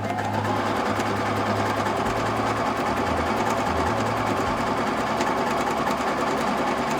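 An Empisal sewing machine runs continuously stitching a dense satin stitch, a fast, steady mechanical whir with rapid needle chatter and no pauses.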